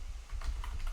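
A single key press on a computer keyboard, a short crisp click with a faint follow-up tap, close and alone.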